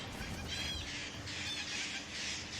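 Birds in the video game Remnant 2 squawk and caw in repeated harsh bursts over a dense, noisy background, moderately loud and continuous throughout.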